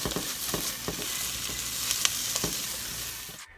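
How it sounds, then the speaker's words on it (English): Onion, bell pepper and garlic fry in hot oil with a constant close sizzle, broken by a few stirring scrapes before stopping abruptly. "we're going to heat up some oil and go ahead and add the onion and bell pepper"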